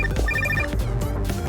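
A telephone rings in a Deadpool 2 film scene set on a Hong Kong rooftop, a short electronic ring over a busy film soundtrack with music and low rumble.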